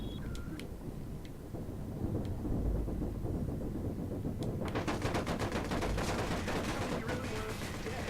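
Rapid automatic gunfire in the video game Watch Dogs, a dense rattling burst that starts partway through over a constant noisy game backdrop, with a few faint sharp sounds before it.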